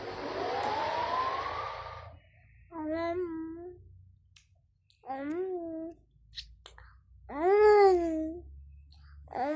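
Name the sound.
baby waking up in the Toca Boca video game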